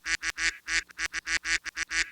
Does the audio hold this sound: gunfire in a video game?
no